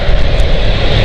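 Aircraft engine at London City Airport, a steady loud broadband roar with no breaks, close by and heard alone.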